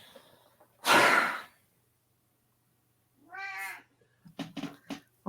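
Cats in a video game: a sharp breathy hiss-like burst, then silence, then a clear drawn-out meow, followed by a few short scattered clicks and bumps.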